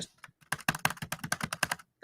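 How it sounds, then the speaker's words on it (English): Rapid clicking on a computer keyboard or mouse, a close, crisp series of a dozen or so quick taps in an uneven rhythm, with no voices. "me clicking. I'm left clicking and nothing is happening."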